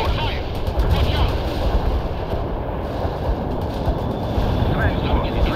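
Continuous battlefield gunfire and heavy weapons in the real-time strategy game World in Conflict, a dense, loud rumbling barrage with no pauses, with voices faintly mixed in.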